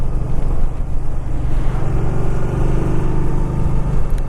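A motorcycle with an engine over 800cc and stock pipes runs with a loud, steady low rumble and slight rises in pitch, wind buffeting the microphone, no voices.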